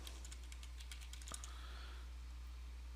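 Rapid, light keystrokes on a computer keyboard while a new password is entered in a software admin setup screen, a steady patter of close, quiet clicks with no talking.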